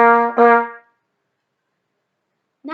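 A trumpet plays a short rhythm on the note C, with two quick, bright, close notes that then fade into silence.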